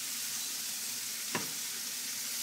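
Smoking-hot oil sizzles steadily in a pan of frying pork, a constant bright hiss with one quick pop partway through, close by and with no talk.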